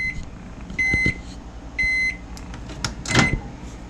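Microwave oven heating a hot dog gives two clear electronic beeps about a second apart, close by, with faint clunks and a brief rustle afterward.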